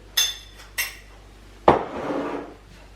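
Crêpe batter being mixed in a bowl: two quick metallic clinks of a utensil, then a heavier knock followed by a short swirl of stirring that fades out.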